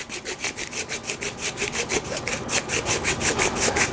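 Hand grinder twisted back and forth on compressed, dense cannabis nugs, giving a rhythmic scraping, rasping crunch in quick regular strokes, close and clear with no voices.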